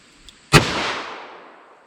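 One sharp handgun shot fired over a chronograph while comparing .44 Special and .45 ACP Gold Dot rounds, a close, loud crack followed by a long fading echo, preceded by a faint small tick, with no talking.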